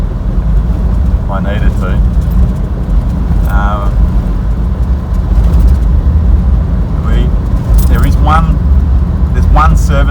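Vehicle travelling along a rough outback track toward Kununurra, tyres run at slightly high pressure, gives a steady loud low rumble and road roar throughout, with someone talking over it.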